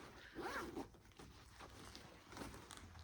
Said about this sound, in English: You've got an inside zip pocket